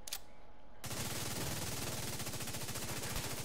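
A quick-firing assault rifle in a raid shooter game lets off a sustained rapid burst of evenly spaced loud shots, starting abruptly and running unbroken to the end.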